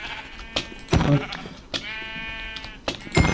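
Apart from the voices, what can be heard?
sheep bleating in video game Minecraft (modded)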